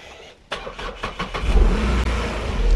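A Renault Kwid with a weak battery cranks sluggishly, then catches, its engine coming up to a rough, loud idle close by.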